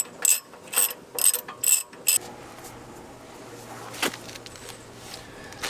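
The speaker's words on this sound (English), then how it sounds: "we've got our 19mm ratchet on" Clicking ratchet of a 19mm socket wrench tightening a ball joint press tool on a Honda Pilot suspension, five quick bursts of sharp ratcheting clicks up close, then a quieter stretch of low hum and one faint clack.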